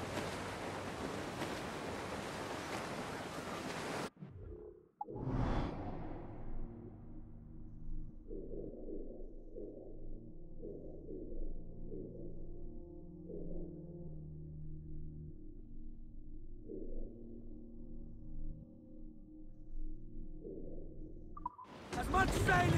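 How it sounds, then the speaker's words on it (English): Strong wind and ocean waves at sea in Assassin's Creed IV: Black Flag: a loud, steady broadband rush fills the opening seconds, then a swooshing surge gives way to a voice speaking over a low hum, before the roaring wash returns at the very end. "There's a strong wind now."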